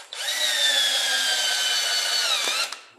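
A power drill bores steadily through a ceramic wall tile, its whining drone holding at an even pitch for close to three seconds before cutting off abruptly.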